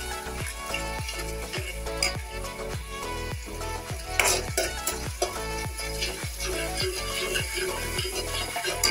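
Oil sizzles steadily in a hot pan as ginger and tomato are tempered for kadhi, while a utensil scrapes and stirs in a regular rhythm, close and continuous with no talking.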